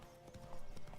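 Hooves clop in a steady, fast rhythm as a horse runs in The Witcher 3: Wild Hunt, loud and close, with game ambience rumbling underneath.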